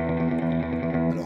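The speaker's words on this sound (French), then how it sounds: "La reverb, c'est un effet qui donne l'impression que la guitare est dans un endroit qui résonne" Electric guitar tremolo picking on Dick Dale's Misirlou, a rapid, steady stream of sustained notes drenched in reverb and slight distortion, played alone without voices.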